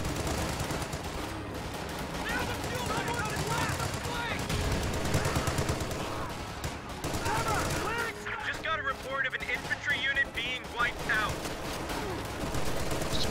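Machine gun fire and other gunfire crackle through the battle soundscape of a WWII strategy video game, dense bursts mixed with explosions and game music, with a commentator's voice talking over it.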